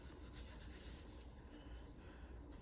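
Flour-dusted hands rubbing together over a trash can to scrub off sticky dough, a steady, close, dry rasping swish that continues unbroken for the whole stretch with no voices.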